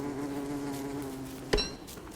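Steady insect drone of killer bees buzzing around a hive in the game Don't Starve, a continuous hum joined midway by a brief sharp hit.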